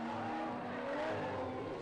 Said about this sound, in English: You could hear the tyres squealing as he tried to get it turned in